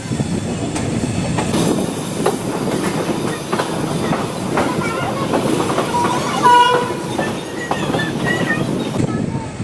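A passenger train rolls toward Jaipur station with a loud rumble and clattering wheels, short squeals and a faint horn, while a voice speaks under the noise.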